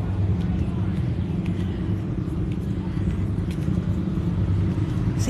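A big bus rumbling along a street in Savannah on a morning walk, a steady low engine drone that stays loud and near throughout, with a person talking over it.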